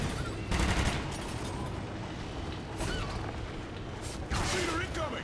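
Rapid gunfire bursts from the Call of Duty Ghosts video game on Xbox One X, played in clustered volleys over a dense background of battle noise, with a louder burst near the end.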